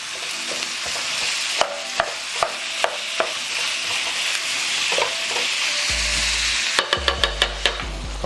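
Meat frying in a non-stick pan, a steady sizzle broken by repeated sharp clinks and scrapes of a utensil stirring against the pan, close and clear with no talking.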